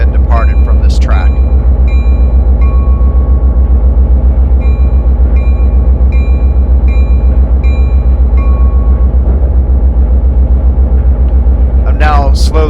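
Train accelerating in Microsoft Train Simulator on the MARC Penn Line, a loud continuous low rumble with steady engine drone throughout, and brief squealing chirps near the start and end.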